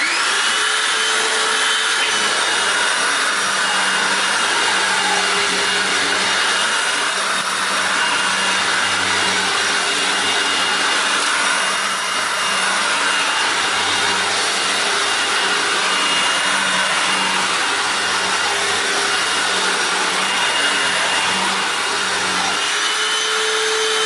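A Hoover WindTunnel U6485900 self-propelled upright vacuum cleaner runs continuously with a loud, steady motor roar and airflow hiss throughout, with slight shifts as it is pushed across the floor.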